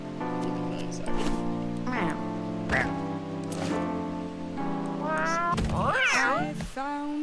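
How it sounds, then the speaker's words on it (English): A cartoonish cat character in the Mewgenics video game meows repeatedly, loud and close, a string of drawn-out wavering meows ending in a rising warbly call. "I love how this cat's voice. Listen to it meow."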